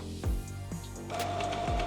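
Brother DCP-T426W ink tank printer starting its initial cleaning cycle, giving off low mechanical whirs and thumps, then a sustained motorized hum with a steady tone, close and moderately loud.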